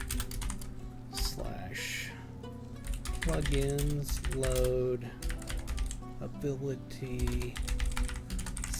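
Quick bursts of clicking keys on a computer keyboard as a command is entered in Lord of the Rings Online, close and crisp, running under a voice reading aloud.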